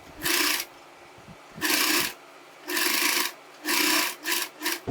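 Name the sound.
sewing machine stitching a churidar neck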